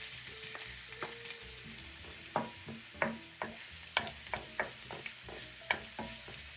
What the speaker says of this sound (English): to the onion and let it gently saute and fry together